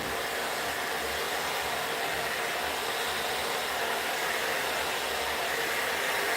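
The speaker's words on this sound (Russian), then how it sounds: "у нас есть две мощности у фена, да, маленькая и большая" A hair dryer blows steadily on its low power setting, a continuous airy whoosh with an even hum, close and unchanging.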